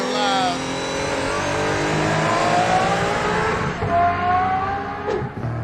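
Aston Martin Valkyrie hypercar, 1155 horsepower, running on track: a loud, continuous engine note with rising and falling harmonic sweeps as it revs and shifts, sustained throughout with a brief dip near the end, voices faintly mixed in.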